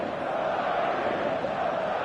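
Stadium crowd in the eFootball soccer game before kickoff, a dense, steady roar of many voices that stays loud and unbroken throughout.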